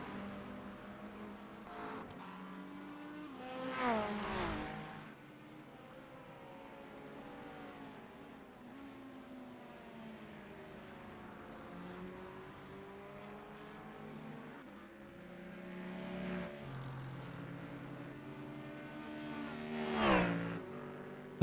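GT3 race cars in a racing game at Watkins Glen, including a Ferrari, whine and roar continuously at a moderate level, with engines swelling past in several louder passes.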